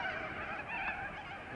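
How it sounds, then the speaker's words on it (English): Corellas call by the Murray River, making harsh, honking squawks that overlap in a faint flock chorus at some distance, with one louder call standing out near the middle. "The corellas are everywhere and they're making noise, as you can hear in the background."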